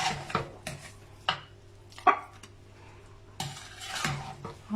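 A utensil scrapes and clinks against a pot and plate while lamb akhni with potatoes is dished out, giving scattered metallic knocks and soft scraping over low background hum.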